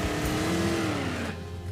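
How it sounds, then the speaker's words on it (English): A car doing a burnout at a drag strip, a loud, continuous engine roar with a rising and falling whine that eases off near the end. "All right, we did a burnout."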